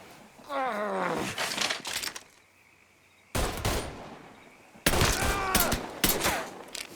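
Mafia 3 gunfight with bursts of rapid gunfire in loud clusters separated by a short quiet gap, with game character shouting mixed in.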